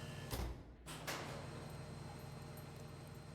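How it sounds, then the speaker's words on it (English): A heavy bunker door in the game Scum swings shut, heard as two sharp knocks in quick succession over a steady low hum, fairly faint. "So, silly boy, shut this door again behind us."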